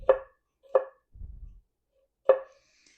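A knife chops through vegetables for chicken fajitas on a cutting board, with three sharp, close, isolated strokes spaced irregularly and a soft low shuffle between them.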